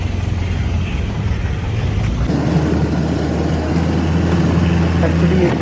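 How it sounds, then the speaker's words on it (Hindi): A jeep engine rumbles steadily on a safari ride through the town of Munnar, a low continuous drone that grows heavier partway through, with faint background noise. "ओके, तो अब हम जा रहे हैं जीप की सफारी मुन्नार के टाउन में।"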